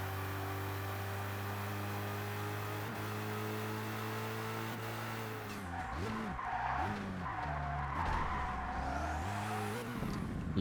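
Race car tires skidding and squealing as the car slides out in ToCA Race Driver 2, a steady engine drone giving way to wavering, fluctuating screeches over several seconds with no talk.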